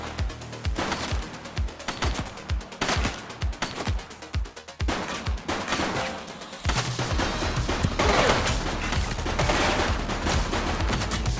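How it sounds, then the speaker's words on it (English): Rapid gunfire from a police shooting game set in The Precinct, with sharp shots coming in quick irregular bursts, then settling into a denser, sustained volley of loud fire. "Shots fired!"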